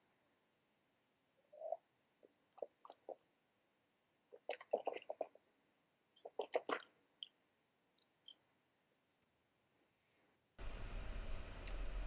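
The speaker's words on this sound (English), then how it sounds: "So we'll taste this Gallo Chardonnay." Gallo Chardonnay is sipped and swirled in the mouth, with quiet, close slurps and wet smacking clicks in scattered bursts, ending in a wash of noise.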